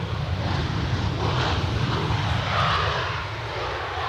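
A windy, steady roar of an SAS airliner's jet engines at Edinburgh Airport, loud and sustained for several seconds, with low rumble and gusting wind noise beneath.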